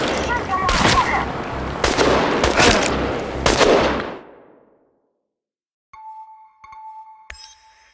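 Chernobylite video game gunfire bursts out in several loud, close shots, rapid and overlapping, then cuts to silence before a faint electronic tone and small beeps follow.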